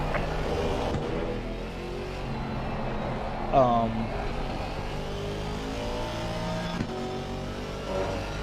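GT3 and GT4 race car engines in the racing game Assetto Corsa Competizione, a steady loud drone that sweeps up and down in pitch through gear changes, with a brief louder passing note midway and talk over the top.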